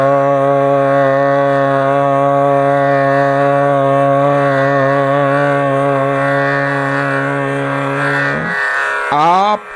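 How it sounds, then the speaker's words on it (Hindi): A harmonium's first black key, C sharp, sounds as a single steady reed pitch held loudly for over eight seconds, then breaks off, followed by a brief rising tone at the very end. "आप पहले काले बटन की आवाज सुन पा रहे हैं। ये सी शार्प पिच है,"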